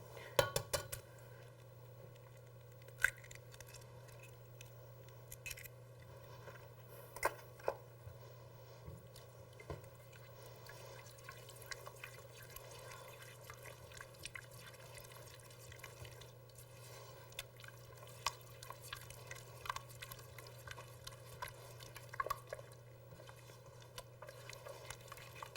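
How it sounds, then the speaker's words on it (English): Spoon clinking and scraping in a bowl as an egg is mixed into warm brownie batter, faint scattered taps over a low steady hum. "as you mix it in, the mixture is going to start getting a little thicker because the mixture is still a little hot"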